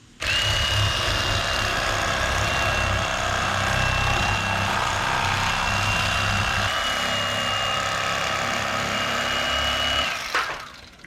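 Electric fillet knife buzzing steadily as it cuts through a crappie, a loud, close, continuous motor whine for about ten seconds that shifts slightly mid-way and then cuts off abruptly.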